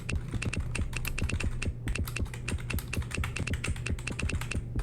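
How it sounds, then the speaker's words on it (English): Fast, steady typing on a computer keyboard, a dense run of crisp close key clicks with a brief lull near the two-second mark. "Start typing."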